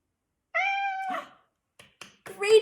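A cartoonish cat meow plays as a sound effect in a learning app, one long tonal cry followed by short vocal bursts from a person talking.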